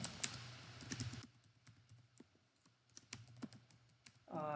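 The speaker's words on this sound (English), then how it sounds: "I type in the username" Keys tapped on a computer keyboard while entering a username, quick irregular clicks in short bursts with brief pauses, close and fairly quiet in a still room.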